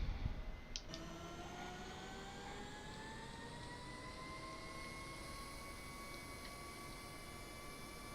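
A HondaJet's number one engine spools up during start, a steady jet whine climbing in pitch over a broad rushing roar after a short click, loud and sustained with no voices.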